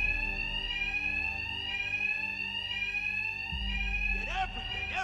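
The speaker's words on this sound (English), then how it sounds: "Two-Face's thugs won't hear me over the alarm." A loud electronic fire alarm rings in Batman: Arkham Knight, a sustained high-pitched repeating tone that keeps on steadily while low rumbling game sounds and brief effects play underneath.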